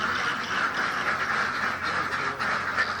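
A flock of ducks quacks in a village setting, a dense, continuous chorus of overlapping calls that is noisy and fairly close throughout.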